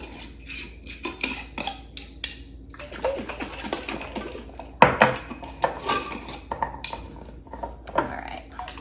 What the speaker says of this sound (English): I'm gonna shake each one up really good